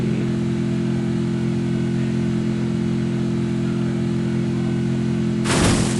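Vehicle engine in the Free Fire video game, a steady mid-pitched drone with harmonic hum held throughout, loud and continuous, with a brief noisy burst near the end.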